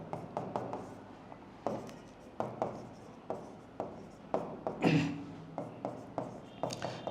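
Math is written on a board in a run of rhythmic scraping strokes and taps, about two per second, with a brief louder rub midway; near and steady, with no clear talk.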